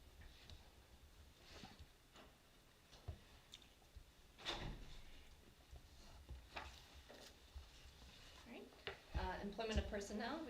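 A door in a board of education meeting room swings shut with a muffled thud midway, followed by smaller knocks, while people talk quietly in the background.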